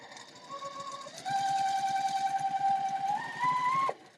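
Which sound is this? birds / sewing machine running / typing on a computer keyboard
sewing machine running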